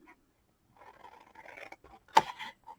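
Scissors snip through paper while a gift box is cut out, a few faint cutting scrapes building to one sharp, loud close snip near the end, then a brief softer cut.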